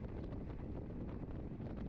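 Headwind buffets a rider during a cycling race, a constant low roaring rush of wind over the microphone, loud and unbroken with no voices.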